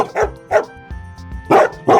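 A dog in an apartment barks four times in quick, loud, close bursts, with a faint sustained tone lingering between the barks.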